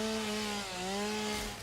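A video-game chainsaw cuts down trees in a factory-building game, a steady droning buzz with a pitch dip midway, loud and continuous with no talk.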